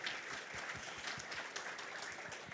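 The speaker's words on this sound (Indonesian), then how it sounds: "Bisa sorak-sorai yang lebih kencang buat Tuhan kita yang baik." A church congregation at a Pentecostal worship service claps and cheers for God, a dense, fairly distant wash of applause with a steady rhythm of beats underneath.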